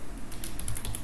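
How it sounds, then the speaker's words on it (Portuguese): Rapid clicking keystrokes on a computer keyboard while coding in C, a quick close burst of light taps with no talk. "Tô digitando no nada aqui"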